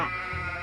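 A single short sheep bleat in the Potion Permit farming game, close and clear, a wavering nasal cry lasting under a second with no talk over it.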